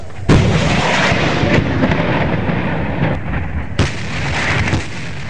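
Heavy weapons fire during a street battle in Sirte, Libya, loud and close: booming blasts with rumbling echoes and a dense, continuous roar, with a second sharp blast near the end.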